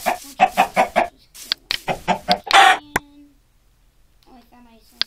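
A Minecraft chicken clucks in a quick run of short bursts, then gives a few more scattered clucks, followed by a sharp game click and faint trailing sounds, all close and fairly loud.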